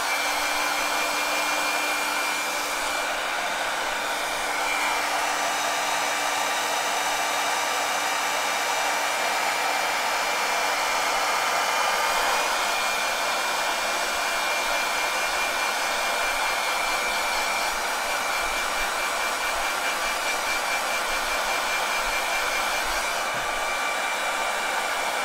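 Steady, continuous whir of a hair dryer held close, blowing on a watercolor pencil drawing on paper, running unbroken and fairly loud with no talking.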